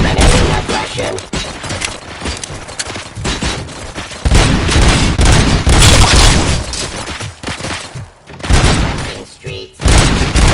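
Gunfire from the Robocop video game, dense, loud bursts of rapid shots and booms that pour out almost continuously with short gaps, while a voice speaks beneath the barrage.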